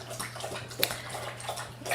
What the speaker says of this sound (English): Sorry, just getting some water.